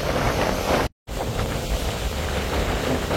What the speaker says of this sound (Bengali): যার এই জন্যই পারাবত 18 লঞ্চ তার গতি বাড়িয়ে দিয়েছে